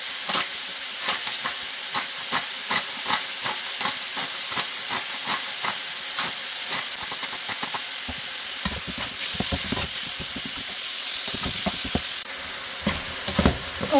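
Food sizzles steadily in a frying pan as it browns for a butter-based white sauce spaghetti, a constant hiss of frying broken by scattered crackles and the occasional scrape of stirring, close by with no talking.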